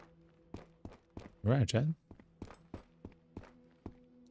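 Faint, regular footsteps sound in a video game, soft evenly spaced thuds over a low steady hum, with someone briefly speaking over them.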